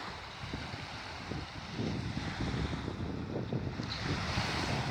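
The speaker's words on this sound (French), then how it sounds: "La plage de Giorgiopoli." Waves on the beach at Georgioupoli, Crete, a continuous wash of surf with gusting wind buffeting the microphone, growing a little stronger partway through, with no voices.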